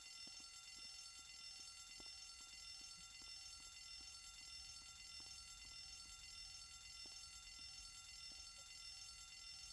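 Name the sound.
fire alarm ringing in video game Grand Theft Auto San Andreas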